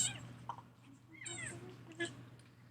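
Short, high kitten meows come in a few separate bursts, soft and close, over a low steady hum from a bottle-feeding session.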